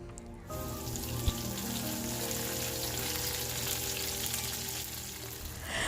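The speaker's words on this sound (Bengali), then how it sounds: "প্রথমে রসুন হালকা ফ্রাই করে নিয়ে তারপর এর মধ্যে বিন দিয়ে দিয়েছি আর একটু পেঁয়াজ কুচি দিয়ে দিলাম" Garlic, beans and chopped onion fry in a pan with a steady, even sizzle that holds throughout, with a faint knock near the start and no voices.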